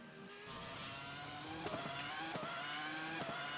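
Race car on the Motegi road course in a racing video game, engine note climbing and dropping sharply through several quick gear shifts, loud and close with a faint tire squeal and no voices.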